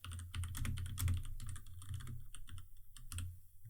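Typing on a computer keyboard while entering random text in a Canva design: a steady, close run of quick key clicks with occasional louder strokes and brief pauses, no voices.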